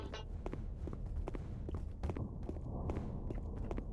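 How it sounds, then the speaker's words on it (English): Footsteps in the video game Black Mesa, a string of soft irregular thuds over a constant low ambient hum, fairly faint and muffled. "Boy, I hear footsteps, but they can't possibly be my own."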